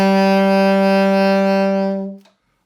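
A saxophone holds a single E note, steady and full for about two seconds before cutting off cleanly, played alone with no talking.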